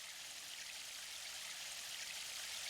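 A waterfall in the video game Sonic Adventure gives a continuous, even hiss of rushing water that stays steady and fairly faint throughout, with no other sounds.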